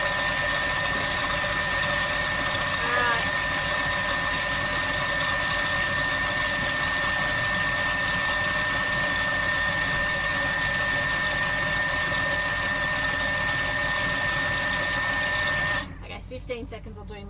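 A Thermomix food processor spins at speed 5, a steady mechanical whirring hum that holds evenly, then drops off abruptly near the end.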